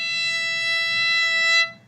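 A bowed orchestral string instrument sustains a single steady high E note, clear and close, for under two seconds before stopping abruptly.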